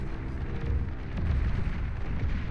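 Pop-up turret being destroyed in Beyond All Reason, an 8v8 deathmatch, with a dense run of heavy overlapping explosions and low booms rumbling continuously, growing slightly louder midway.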